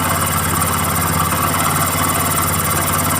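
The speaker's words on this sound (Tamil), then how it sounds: "இவ்வளோ ஐலிங் இருக்குது. ஆனால் திருப்பி நம்ம ஐலிங் கம்மி பண்ணுறோம்" A vehicle engine idling after its idle speed was lowered: a steady, loud, even mechanical hum with a faint regular pulse and no changes in speed.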